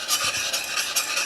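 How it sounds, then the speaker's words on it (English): Corn bottling sugar being stirred into boiled water in a pot for homebrewed imperial smoked porter, a steady scraping swish with soft rhythmic strokes, close and continuous, no voices. "Now we're just adding some of this bottling sugar. It's, I believe, corn sugar, if you guys are curious. But we're just going to stir that in."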